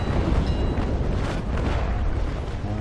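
A ship's cannon fires at enemy rigging during a naval battle in the game Naval Action Legends, a loud booming blast followed by a long, rumbling roar that carries on for a few seconds.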